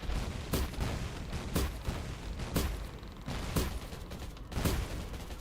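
Gunfire in the mobile shooter Undawn during a training match: about six evenly spaced, sharp shots roughly a second apart over a constant noisy background rumble, moderately loud.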